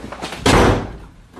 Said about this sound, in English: slammed the door